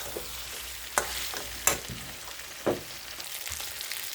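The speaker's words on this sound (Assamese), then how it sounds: "আৰু এতিয়া মই মাংসখিনি ঢাকনি নিদিয়াকৈ 3 পৰা 4 মিনিট টাইম ফ্ৰাই কৰি লওঁ।" Meat for a chicken curry frying uncovered in a pan, a steady low sizzle with a few sharp clatters of stirring spaced across the stretch, no voices.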